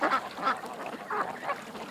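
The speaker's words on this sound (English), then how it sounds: "And the ducks are just standing there." A few ducks standing close to a hovering drone give repeated nasal quacks in short bursts about every half second, under a soft steady background hiss.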